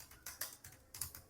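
Quiet keystrokes on a computer keyboard while entering a name into Gmail, arriving in short clustered bursts of clicks with brief pauses between them.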